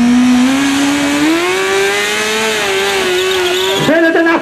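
A tuned car at a live arena stunt show revs hard with a sustained, loud wailing engine note and squealing tires, the pitch rising and wavering before breaking up near the end.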